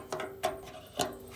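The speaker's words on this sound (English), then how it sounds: "tighten it up with channel locks" Hose clamps being tightened with channel locks while working on a 1978 Toyota Wolverine 4x4, three separate metallic ratcheting clicks spaced about half a second apart, close and alone.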